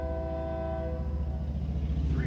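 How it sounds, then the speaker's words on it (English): A westbound container train rumbles steadily across a crossing near a geometry train, its deep continuous roar joined by a sustained horn tone that fades out partway through. "we have a container train coming westbound across the geometry train"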